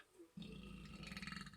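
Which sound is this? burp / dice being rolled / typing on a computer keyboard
burp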